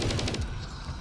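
Rapid SMG gunfire in Black Ops Cold War Zombies fires at orbs as a short, loud automatic burst of about five shots that cuts off abruptly.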